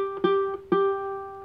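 A ukulele's E string fretted at the third fret is plucked three times, close and clean, each note ringing and sustaining into the next.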